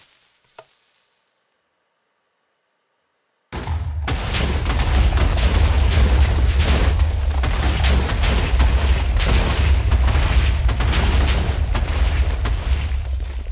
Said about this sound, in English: But you can use TNT to destroy these blocks.